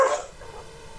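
A single dog bark, sharp and close, quickly fading into a short tail of faint background noise.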